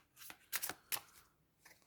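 A deck of oracle cards is shuffled close up, with several quick papery riffles and slaps in short bursts, quiet and without talk.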